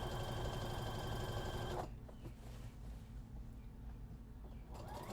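A sewing machine back stitching fabric runs with a loud dense mechanical whir for about two seconds, then cuts off abruptly, leaving quiet rustling of fabric and a faint machine hum.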